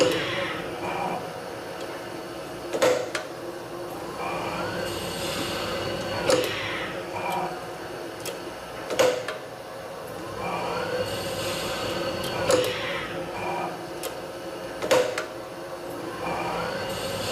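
A machine with a collet runs repeated cycles shortening metal pins, giving a steady mechanical whir punctuated by about six sharp clunks spaced a few seconds apart.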